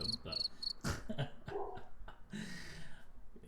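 Crickets chirp in short, high trills behind a busy room soundscape with rustling and clattering, faint and intermittent.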